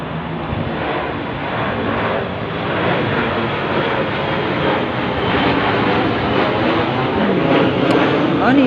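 Loud, continuous roar of airplanes passing overhead, a steady broadband drone that swells slightly toward the end with no clear speech over it.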